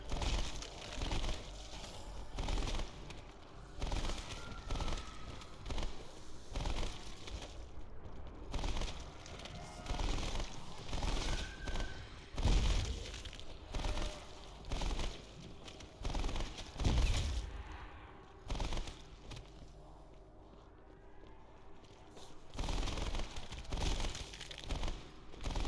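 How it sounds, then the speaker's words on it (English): Hip-fire gunshots ring out in Call of Duty Black Ops, repeated sharp bursts in uneven clusters across the whole stretch, loud and close, with brief gaps between volleys. "just getting hip fire kills is super easy with this gun"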